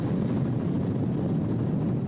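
A 7 News helicopter flies over a bushfire in Western Australia, giving a steady, continuous rotor drone with dense low rumble that stays at an even level throughout.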